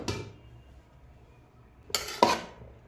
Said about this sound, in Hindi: अब इसके ऊपर मैं चावल का एक और लेयर डाल रही हूँ।